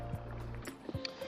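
Bamboo boat rowed by hand through the water on a Hoi An river, with soft paddle splashes and gurgles, a low steady hum underneath and faint voices around.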